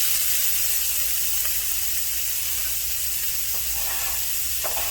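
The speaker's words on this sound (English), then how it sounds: "Now we're gonna put my onions in." Two chopped onions hiss and sizzle steadily in a hot pan, a continuous close frying spray with faint crackles, no talking over it.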